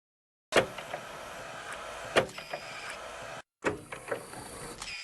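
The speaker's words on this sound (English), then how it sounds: "We come into the ice room and we put it into the fuse box." A fuse is slotted into a fuse box in a Minecraft remake of Resident Evil, giving sharp clicks and a mechanical whirring hum that cuts off briefly and then starts again with more clunks.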